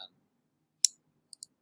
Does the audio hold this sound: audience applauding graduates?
no